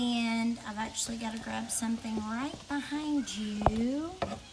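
Potatoes and onions fry in vegan butter in a skillet on a stove, a soft steady sizzle and occasional stirring running beneath a woman's nearly continuous close talk.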